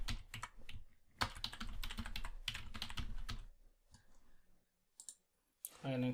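Rapid bursts of computer keyboard typing clatter close up as an admin username and password are entered, pausing briefly, with a voice speaking between the keystrokes.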